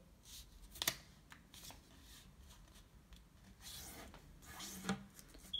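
Paper being folded and creased by hand for an origami ninja star, soft rubbing and crinkling with a sharper crisp crease near the start, quiet and close with no voice.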